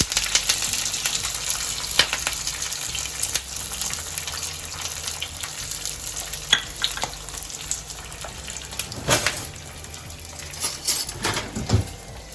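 Chopped small onions and curry leaves frying in hot oil, a steady close sizzle with crackling pops and a few louder spitting bursts running throughout.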